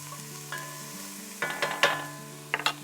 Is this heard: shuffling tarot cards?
no